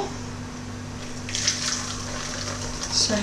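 Blended almond milk pours through a sieve into a bowl, making a steady liquid splash with a steady hum underneath, swelling briefly louder near the middle and again at the end.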